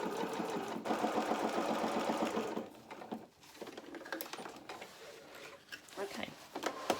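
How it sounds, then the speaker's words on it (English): Domestic sewing machine stitching fabric for a small doll playsuit, whirring in steady runs with a brief pause partway through, close and fairly quiet. "put it back into the machine. This time starting at the V. We're just going to sew"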